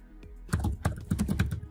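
Fingers tap out a file name on a computer keyboard, a quick run of crisp, close keystrokes in an uneven rhythm, with no voices over them.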